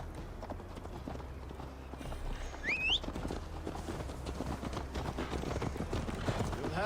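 A ridden horse's hooves clip-clopping in a steady trot in Assassin's Creed Valhalla, close and rhythmic over a low ambient bed, with a brief bird call early on.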